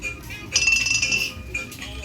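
A glass bottle clinks as it is picked up in the Granny horror video game, with bright, short chiming taps over a low background hum.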